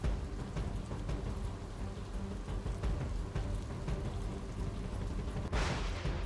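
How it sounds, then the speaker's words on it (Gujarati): Heavy rain pours down in a loud, steady roar, close and continuous, with no voices, during flooding in Nani Khombhdi, Nakhatrana, Kutch, Gujarat. "અવિરત વરસાદના કારણે લોકોને ભારે નુકસાન થયું છે"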